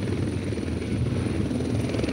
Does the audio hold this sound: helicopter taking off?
yes